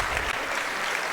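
Crowd at a Guelph vs Trinity Western national bronze medal game applauding an injured player being carried off, a dense, steady wash of clapping and cheering that fills the whole moment without a break.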